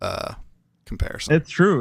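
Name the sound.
man imitating a burp-like demon voice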